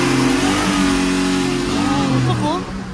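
A car engine runs steadily after a cold start in snowy Canada, a loud, close, continuous hum with slight revving swells while a voice speaks over it.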